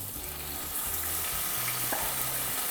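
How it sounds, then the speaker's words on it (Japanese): Lean supermarket beef steak shallow-frying in hot oil makes a continuous close sizzle and crackle, with a low rhythmic hum beneath, and no one speaking. "油の中で揚げ焼きにするイメージで加熱。"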